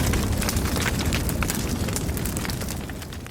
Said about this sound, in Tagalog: Umapoy ang buong bahay.